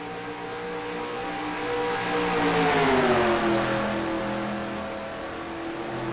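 Race cars in NASCAR Racing 2003 at Lowe's Speedway, engines droning steadily and rising in pitch as a car closes in and passes, loud and continuous with no talking.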